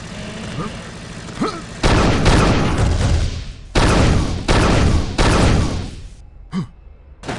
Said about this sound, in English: The combat assault rifle is a marshal's best friend.